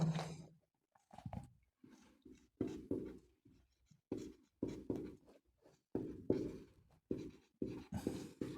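Marker or chalk writes on a board during a classroom lesson, a close series of short scratchy strokes in uneven bursts separated by brief pauses, fairly quiet and with no talking.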